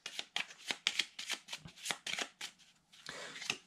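Cards from the board game Legacy of Yu being shuffled by hand, a close series of quick riffling bursts in an uneven rhythm.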